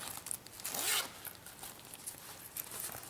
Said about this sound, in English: this is the inside zip pocket